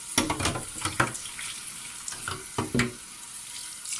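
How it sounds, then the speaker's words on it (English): Cold tap water splashes and runs as Xbox One console parts are rinsed in a sink, with irregular close bursts of spatter and clatter, no talking. "we're just going to give everything a rinse off under some cold tap water just to get all the soap off"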